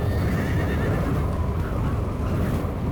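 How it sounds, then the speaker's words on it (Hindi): A horse whinnies loudly as it bolts away, its wavering neigh over a busy background of hoofbeats and rumble in a martial arts film scene. "अरे देखो, मेरा घोड़ा भाग गया!"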